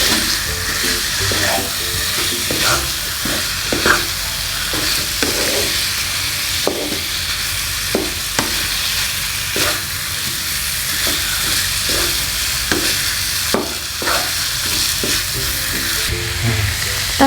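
Rendang stirred in a pan after the meat's own broth goes in, giving a steady close sizzle and bubbling with repeated scraping and clacking of the spoon against the pan, no voices.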